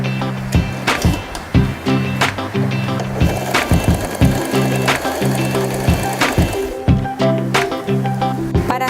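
A Janome 3016 sewing machine stitches a zipper, a close, loud, rhythmic mechanical clatter that runs in bursts with short pauses.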